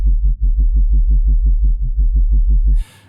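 Synthesized sub bass patch from Native Instruments Massive, a loud low throbbing tone wobbling in an even fast pulse before cutting off near the end.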